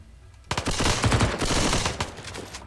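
Rapid bursts of turret gunfire during a raid in RimWorld, loud and sustained after a quiet opening, with dense crackling shots rattling on to the end.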